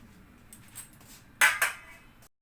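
Metal lid set onto a cooking pot of soup broth, two sharp clanks close by, the first louder, followed by a soft rattle against quiet kitchen background.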